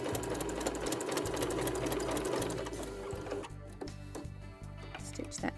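A sewing machine runs steadily through a seam on a log cabin mug rug, a fast continuous rattle for about three seconds that then slows into separate ticking stitches, close and alone with no talk.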